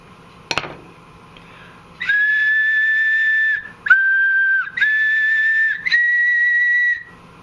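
A homemade double ocarina sounds a sustained G note during tuning, heard as three clear, close breathy whistle tones of a couple of seconds each, the pitch shifting slightly between blows, after a brief knock at the start.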